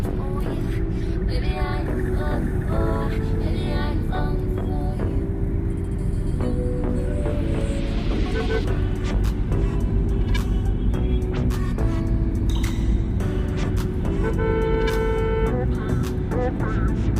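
Inside a Tata Safari Storme SUV driving with a repaired low-pickup fault and now pulling well, a steady, heavy low engine drone runs throughout, with someone talking faintly over it.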